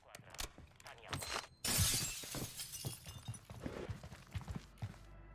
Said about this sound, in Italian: sei tu che hai rotto i vetri